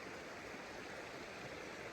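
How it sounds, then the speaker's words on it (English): Fresh water in a creek at Sheep's Creek runs in a faint, steady rush, a soft, even babble with no breaks and no voices. "Today there's fresh water running right there."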